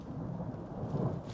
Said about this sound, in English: Dude, this is a wicked thunderstorm.